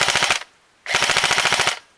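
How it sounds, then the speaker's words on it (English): Rapid full-auto bursts from a Magpul PTS RM4 ERG electric recoil M4 airsoft gun: a short string of fast clicking shots, a brief pause, then a longer steady burst, loud and close. "Switch it to full auto."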